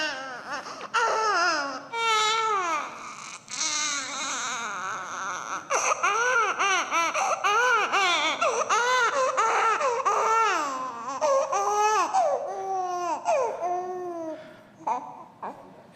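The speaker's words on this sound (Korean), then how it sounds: "이 애기는 왜 우는 걸까요?" Recorded infant crying over about sixteen seconds: a string of rising and falling wails and choppy sobbing bursts with short gasps between, staying loud and close nearly throughout before tapering slightly at the end.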